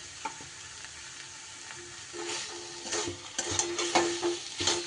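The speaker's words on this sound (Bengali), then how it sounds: "এইবার সব কিছু আবারও একটু নাড়িয়ে চাড়িয়ে নিতে হবে।" A mash of banana flower is stirred in a pan with a little raw oil added, giving quiet frying sizzle and intermittent scraping strokes that grow busier and louder toward the end.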